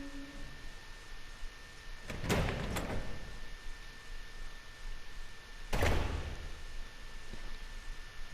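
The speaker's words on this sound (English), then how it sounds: "We're gonna head through this door right here." A door in the video game Resident Evil 0 opens with two sharp mechanical clunks and a slide, then closes with another heavy thud a few seconds later, over a quiet ambient hum and faint ticking.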